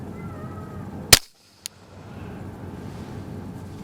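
A single sharp report from a suppressed .40 caliber firearm fitted with a Resilient RS9 suppressor, firing 180 grain Freedom Munitions Blaster ammunition, stands out against outdoor background noise, followed by a faint secondary click.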